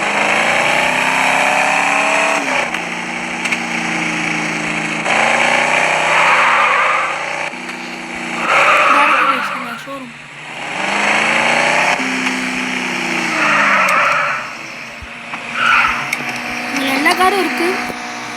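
Car engine revving in a video game, with repeated rising and falling engine tones that surge and dip over the span, loud and up front, with a voice talking intermittently alongside.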